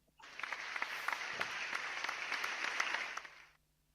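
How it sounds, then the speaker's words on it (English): A burst of applause from a crowd, steady dense clapping for about three seconds before it stops abruptly. "Can we have the clap sound, please?"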